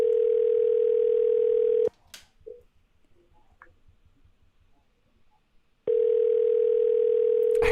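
A telephone dial tone hums as a steady loud tone for about two seconds, cuts to near-silence with faint clicks and small handling noises, then returns just as loudly near the end.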